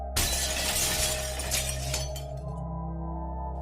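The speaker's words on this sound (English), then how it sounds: "A slender humanoid figure came smashing out the window of the house." Window glass smashes in a sudden loud shatter, followed by a second or two of tinkling shards that trail off into a quieter room tone.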